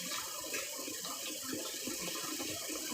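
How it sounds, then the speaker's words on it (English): Cold water streams from a kitchen faucet onto eggs in the sink, a steady, dense splattering rush that holds constant and close throughout, with no voices. "I'm going to go ahead and start running them in cold water."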